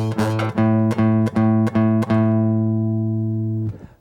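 A guitar note fretted near the front of the fret, plucked repeatedly in a steady rhythm, each attack ringing clean and sustained, the last one held and left to decay before being cut off.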